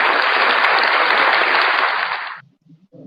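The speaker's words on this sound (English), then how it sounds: "Was that you clapping, or was that the sound effects?" Sustained crowd applause sound effect plays loud and even during a live stream, then cuts off abruptly, leaving a few faint low sounds afterward.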